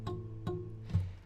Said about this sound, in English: the high E string should sound like this